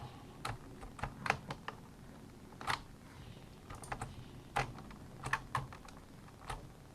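Keys clack on a computer keyboard as a command is typed, in quick irregular bursts of crisp, fairly quiet taps with short pauses between them and no talking.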